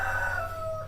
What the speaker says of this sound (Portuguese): antes que o galo cante